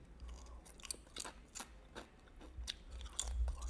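Crunchy Peruvian snack chips, sweet and banana-tinged, chewed up close in Lima, with a string of crisp bites and crackly crunches recurring irregularly over low background rumble.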